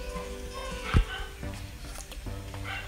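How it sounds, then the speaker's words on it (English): Dogs bark in the background, with one sharp, fairly loud bark standing out among fainter yips over a steady backdrop of game music and noise. "if there's some dogs in the background"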